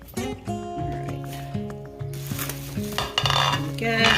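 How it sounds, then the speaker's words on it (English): A spoon stirs stovetop stuffing with sausage in a pot, giving soft scraping and clinks against the metal under steady sizzling, with background music tones running throughout. "Give this dressing a stir."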